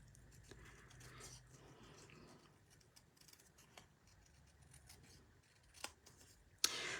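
Scissors snip paper in careful fussy cutting for a cardstock drink-themed card background, a quiet run of soft rustling cuts and small clicks with a sharper snip near the end, no talking.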